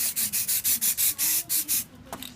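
Sand-colored spray paint hisses onto AR15 rifle parts in about ten short, evenly spaced bursts, each a close, loud spray, then stops and leaves a light clatter.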